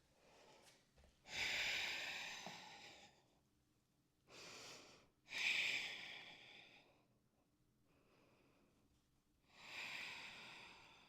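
Several audible breaths during a dynamic vinyasa yoga session, close and airy, each a hissing rush a second or two long separated by quiet pauses, the strongest being forceful exhales.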